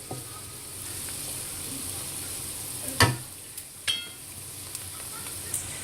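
Tomatoes tossed into a pan of frying green chilies for a coriander chicken curry, a steady quiet sizzle with a few sharp spoon clinks and stirring scrapes nearby.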